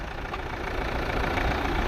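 Diesel engine of a Tata Safari idles steadily with the air conditioning running, a constant loud rumble and whir that holds even from start to end, with no voices.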